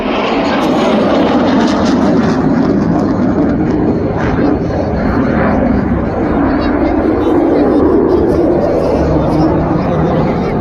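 A Sukhoi Su-22 fighter jet flies over Yemen with a loud, broad, steady roar throughout, mixed with crowd chatter and voices.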